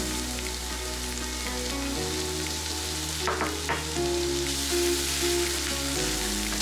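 Onions sauté in a pan for a carbonara, giving a steady close sizzle and frying hiss with brief stirring scrapes near the middle, over a constant low musical bed and no voices.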